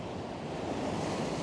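Big ocean waves break and wash over coastal fishing rocks in a steady, loud roar of surf with wind gusting across the microphone, with no pauses between swells.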